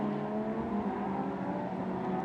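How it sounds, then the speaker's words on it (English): Lamborghini Super Trofeo race cars speed along the circuit at Watkins Glen, a steady loud engine roar holding throughout with no break and no talking. "These cars are super fast."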